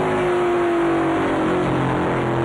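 Stock race cars run side by side on an oval at night in a USAR Pro Cup event, engines droning loud and steady in a dense continuous roar with no gaps.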